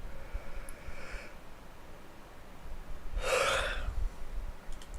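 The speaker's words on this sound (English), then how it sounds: "Oh my god, stop yawning." A person yawns during a relaxed game session, one drawn-out breathy exhalation of noise rising in the middle of the stretch, fairly close, with fainter breathing sounds at the start and no talking.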